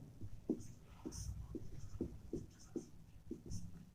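Chalk or marker writing on a board during a Class 11 chemistry lesson, made up of short, quiet, rhythmic scratching strokes in steady succession, some of them tapping, with no voice over them.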